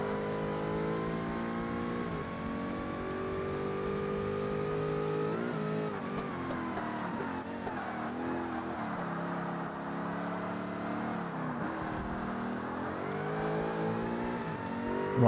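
Engine of an R-GT class race car in Forza Motorsport on hard difficulty, a loud continuous roar with the pitch rising and falling through upshifts, downshifts and braking, and brief tyre squeal.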